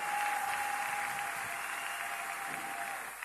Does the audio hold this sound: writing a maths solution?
no